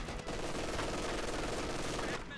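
Dense, steady machine gun fire in a Company of Heroes 2 World War II battle between US forces and the Wehrmacht, rattling continuously for a couple of seconds with the loudness barely dipping.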